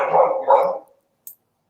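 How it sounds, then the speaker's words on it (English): A dog barks twice in quick succession, loud and close, followed by silence with a faint brief sound near the end. "kids and dogs, they make noise"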